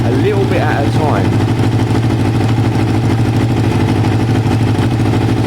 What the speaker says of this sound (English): If the bike sounds better, well, it didn't really sound much different.